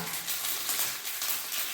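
Tempering spices sizzle in hot oil for a home lunch of mango pachadi, giving a steady, hissy crackle that stays close and even, with no talking over it.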